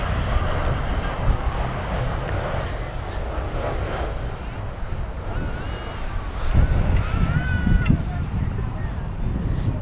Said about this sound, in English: Nice, decently high landing and then float there pretty fast